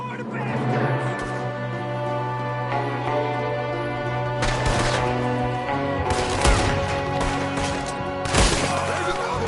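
Gunfire in the Western video game Red Dead Redemption 2, a shootout with enemies firing from a window: repeated sharp shots and bursts over sustained game music, several loud cracks clustered near the end.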